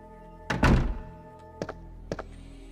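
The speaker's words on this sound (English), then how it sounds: "then open this door here" A door opens in Resident Evil 2 with a heavy, close wooden thunk, followed by two shorter, quieter knocks or latch clicks a second or so apart, over a faint steady hum.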